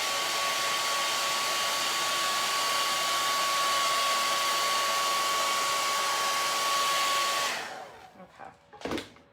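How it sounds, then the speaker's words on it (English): A hair dryer blows in a constant loud whoosh with a steady whine, aimed at a DIY farm sign, running alone for several seconds before switching off, followed by a few small handling clunks. "Gonna blow dry that just a little bit."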